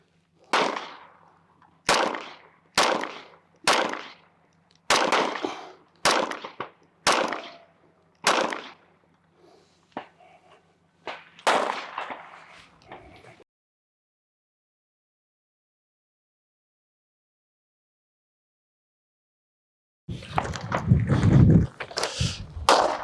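A Smith & Wesson M&P 45 pistol fires about ten evenly spaced shots outdoors, each a sharp crack with a short ringing tail. A long silence follows, then a burst of louder rumbling noise.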